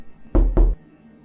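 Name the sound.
knocks on a wall, horror story sound effect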